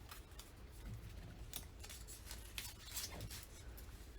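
Scissors cut a paper strip in half for a scrapbook layout. Several quiet, crisp snips and rustles sound close by, with no voices.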